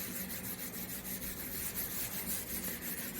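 Product being rubbed by hand into a vinyl wrap on a Suzuki Samurai hood, a soft continuous rhythmic scrubbing, close and fairly quiet with no voices.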